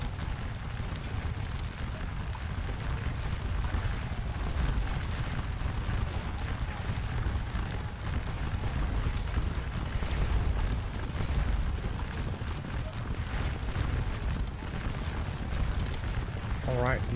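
Musket volleys crackle continuously in the Scourge of War Waterloo game, a dense, distant rumble of massed infantry fire that holds steady throughout.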